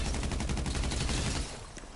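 Rapid automatic gunfire from GTA Online rattles out in a dense burst of shots, loud and close, then thins to a few scattered reports as it tails off.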